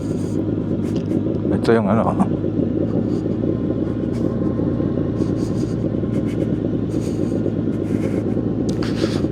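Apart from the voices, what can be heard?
Kawasaki Z1000 motorcycle riding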